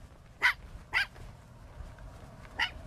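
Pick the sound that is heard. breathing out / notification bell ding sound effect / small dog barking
small dog barking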